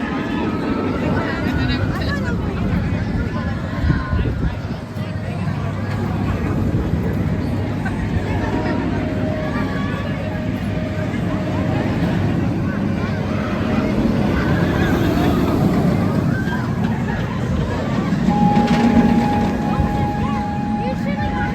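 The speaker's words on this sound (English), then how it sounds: "Up next, we're gonna do X-Flight, and this will actually be coaster number 150 for me." Riding the X-Flight roller coaster at Six Flags Great America, with a steady rushing wind roar and rumbling track noise that swells and fades through the ride, and a few faint voices and screams mixed in.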